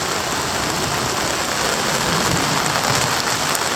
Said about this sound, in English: today in Bocas, we are getting quite a bit of rain